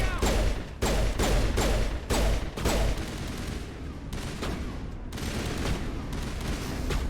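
Loud, sustained gunfire in the video game Mass Effect Legendary Edition, with heavy bursts of automatic shots hammering in quick succession, briefly broken by short gaps and then resuming as a continuous barrage.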